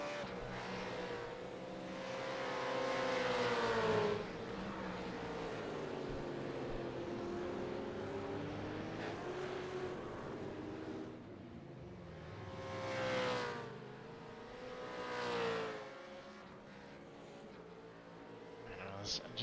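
Supercars race around Phillip Island in a racing simulator, engines whining and rising and falling in pitch as cars sweep past, under steady commentary voice throughout.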